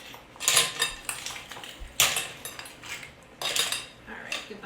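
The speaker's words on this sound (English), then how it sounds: "Shells are going back in there." Clam shells clatter into a pot of New England clam chowder in several hard, sharp bursts of hollow clinking against metal, spaced a second or so apart, close and loud with no talking.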